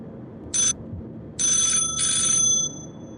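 A phone rings out over a call on a podcast, three shrill electronic trills in quick succession over a steady low background hum, with no talking over them.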